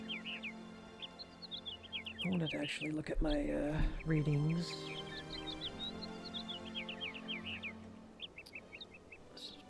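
Repeated high chirps and tweets from a bird in the PC adventure game Syberia, sounding steadily in the background while a person talks over the middle stretch.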